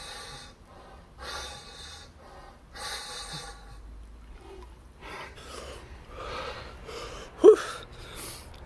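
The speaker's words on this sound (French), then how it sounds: "j'ai réussi à tenir 20 respirations complètes sous l'eau avec le tuba" Breathing through a snorkel with the head submerged in cold water: a series of harsh, hollow inhales and exhales in slow rhythm, close and fairly quiet, with one sharper gasp near the end.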